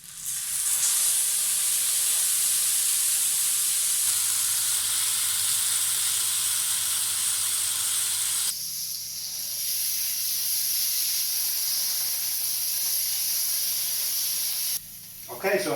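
A bacon-wrapped pizza dog sizzles on an oiled griddle, a loud, dense, constant hiss that fills the whole stretch, briefly dipping and shifting tone, heard alone at close range.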